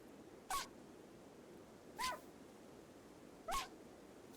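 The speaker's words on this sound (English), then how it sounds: "It's like there's a dog on the opposite side." A dog sound in Rimworld comes as three short, evenly spaced barks or yelps, each about a second and a half apart, distinct against a quiet background.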